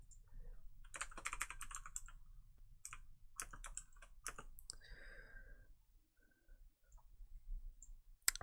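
Keys on a computer keyboard clatter in quick bursts of close, crisp clicks with short pauses, then fall quiet before a few more scattered taps.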